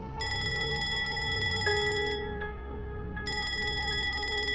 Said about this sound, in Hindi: सुबह देवांश की आंख उसके मोबाइल की रिंग की आवाज से खुली